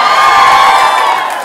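A late-night talk show studio audience cheers and whoops loudly in a dense, sustained crowd roar that tapers slightly at the end, with no talking over it.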